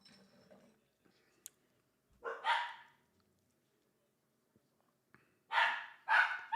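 A dog barks in short bursts, one pair of yaps and then a second, louder cluster a few seconds later, separated by near silence, heard indoors during a live football watchalong.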